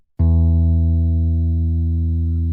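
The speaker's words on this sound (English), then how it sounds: "That's what we want the guitar to be tuned to for the thickest string." A single low E note on a guitar's thickest string is plucked once and rings out steadily, sustaining loud and clean with no voices.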